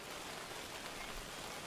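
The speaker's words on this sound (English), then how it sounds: "Just a little bit of rain." Light rain in the game Outbound, a soft, even patter of drops hissing steadily throughout with no voices.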